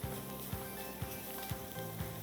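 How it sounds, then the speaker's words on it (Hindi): Masala frying in oil in a non-stick pan, with a steady close sizzle and a soft scrape of stirring roughly every half second. "थोड़ा सा ये मसाला भून लीजिए, इसमें चने डाल दीजिए, चनों को भी अच्छी तरह इसमें मसाले के साथ भूनिए।"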